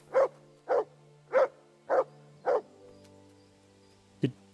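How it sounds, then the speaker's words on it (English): Mutt, a dog in the medieval role-playing game Kingdom Come: Deliverance 2, lets out five evenly spaced barks close by, then falls quiet before one last short bark. "I'm just gonna start barking at the locations we're already at to make you alert"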